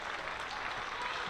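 A cricket crowd at a women's Charlotte Edwards Cup match applauds a boundary drive through extra cover, with steady dense clapping from a distant stand.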